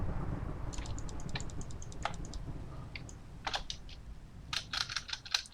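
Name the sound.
tapping the shift key on a computer keyboard while playing a video game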